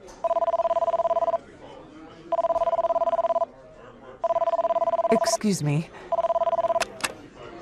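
A cell phone rings in a restaurant with four loud, regular bursts of an electronic ring, each lasting about a second with short gaps between them. A person speaks briefly over the third ring.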